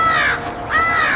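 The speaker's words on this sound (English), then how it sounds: "Yeah, you stay out of here, crow." Crow cawing nearby, two loud harsh caws separated by a short gap, clear and alone without talk.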